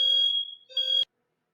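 A smoke or fire alarm blares in short, piercing electronic tones in an apartment, two loud bursts separated by a brief dip before cutting off abruptly into silence.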